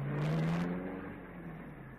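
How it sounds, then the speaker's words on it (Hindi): A car pulls away after a rider gets in, a short rising engine whir that starts close and fades off as the vehicle drives away. "गाड़ी चली गई"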